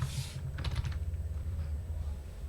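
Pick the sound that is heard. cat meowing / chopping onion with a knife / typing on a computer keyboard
typing on a computer keyboard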